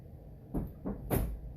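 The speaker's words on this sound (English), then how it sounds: "So when you want to open the louvers" Window shutter louvers are opened: three quick soft wooden clacks and rattles in a row, close by in a quiet room, with no talking.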